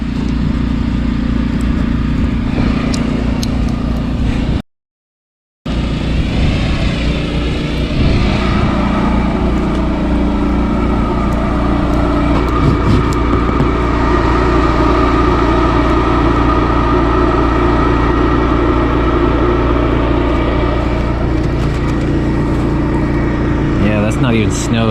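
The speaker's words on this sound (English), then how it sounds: "Looks like the ranch has its generator going." A ranch generator runs in icy, sleety weather as a steady, loud mechanical drone that holds throughout, with a person talking over it.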